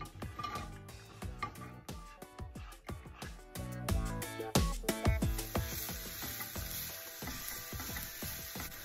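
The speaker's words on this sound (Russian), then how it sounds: "сковороду наливаем немного растительного масла и начинаем обжаривать лук" Steady sizzling of onion frying in vegetable oil in a pan, with frequent clinks and scrapes of a utensil stirring, close and fairly quiet, no talking.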